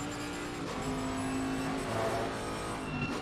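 Several Porsche race cars in a sim racing game at Oulton Park drone steadily, a continuous engine whine with a shifting pitch and no voices over it.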